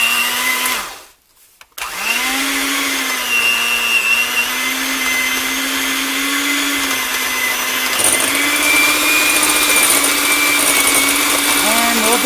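An electric mixer beats butter and sugar on low for snickerdoodle dough. It gives a steady, close, loud whirring hum that cuts out briefly near the start, then runs on evenly.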